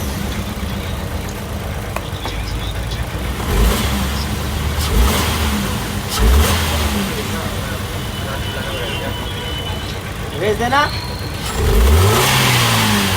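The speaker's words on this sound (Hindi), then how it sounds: "हाँ, गाड़ी मिसिंग है, मिसिंग।" A car engine with a failing ignition coil misfires while being revved in a garage, rising and falling in several short rev bursts over a rough running note, with people talking throughout.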